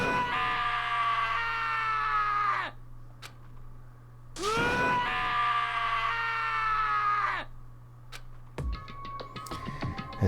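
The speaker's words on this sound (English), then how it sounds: "As Taka's sad screams invaded our skulls" Anguished, drawn-out screams from Taka in the Danganronpa video game come in two long harmonic bursts, each sliding downward and trailing off. A steady low hum sits beneath them, and clicking ticks follow near the end.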